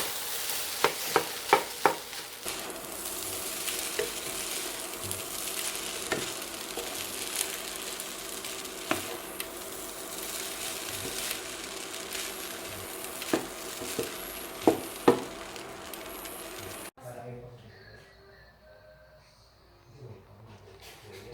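Korean fried rice with egg stir-fried in a pan, a steady sizzle with scraping and clinking spatula strokes, sharp knocks around the start and near fifteen seconds, then the frying cuts out abruptly to a quieter room for the last few seconds.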